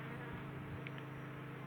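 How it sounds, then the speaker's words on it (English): Bees buzzing around a high-pitched house roof after being sprayed with eucalyptus oil, a soft continuous hum with faint passing buzzes over steady outdoor background noise. "The reason we're seeing bees flying around more outside now is we sprayed the eucalyptus oil."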